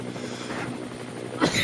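A Rover-sponsored camera helicopter hovers over the 12-hour Nürburgring endurance race, giving a steady, moderately loud whirring drone with a brief swell near the end.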